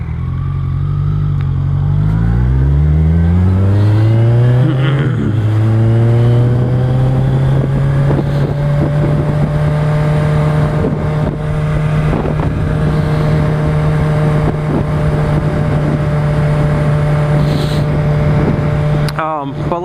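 Motorcycle engine revving during wheelie practice on a long straight road, a loud close drone climbing in pitch as it accelerates and holding steady, with wind buffeting the microphone.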